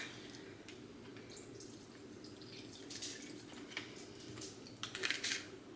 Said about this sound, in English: So I'm just like pouring it all into this bag, right?